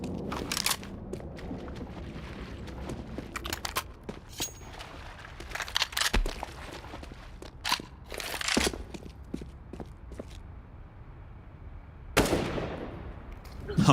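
Bursts of Mac 10 submachine gun fire in a Counter-Strike match, rapid cracking volleys scattered over the span with a loud final burst near the end, mixed with game effects and footsteps.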